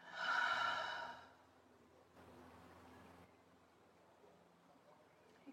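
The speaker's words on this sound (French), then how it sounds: "Expirez par la bouche." A single long exhale through the mouth during a guided yoga breathing exercise, a soft breathy rush that swells and fades over about a second, followed by quiet room tone.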